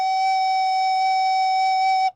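A single sustained recorder note, F sharp, held steady and clear for about two seconds with slow warm breath, loud and close, then cut off cleanly.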